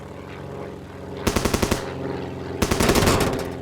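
Heavy machine guns and cannons on a French P-47 fighter in War Thunder fire in two loud bursts, a short rapid volley followed by a longer sustained one, over steady engine drone.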